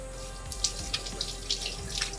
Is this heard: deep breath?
no